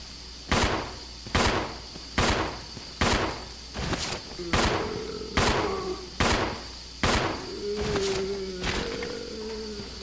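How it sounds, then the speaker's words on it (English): Rebecca's handgun firing at a zombie in Resident Evil Zero HD Remaster: about ten sharp, loud shots at a steady, unhurried pace, with low creature groans rising between the later shots. "let's go ahead and test Rebecca's handgun on a zombie"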